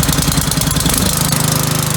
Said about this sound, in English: what we will do is start the generator first